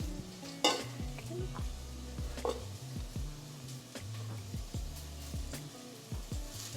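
Onions sizzling and being stirred in a pot, a soft steady frying hiss broken by repeated scraping strokes and light clinks of a utensil against the pot.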